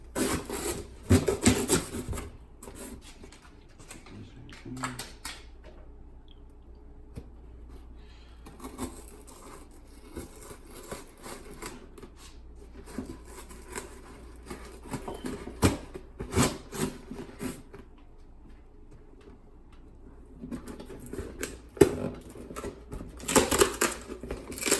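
A heavily taped box holding a Weapon R air intake is opened, with bursts of tape tearing, cardboard scraping and rustling broken by quieter pauses. No one talks.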